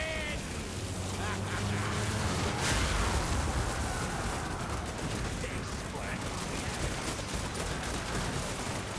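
A Skaven ratling gun fires in a Total War: Warhammer II Mortal Empires battle, a loud, dense stream of rapid gunfire that rattles on without pause for the whole stretch, thick with the roar of battle and faint voices in the mix.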